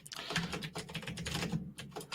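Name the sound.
typing on a computer keyboard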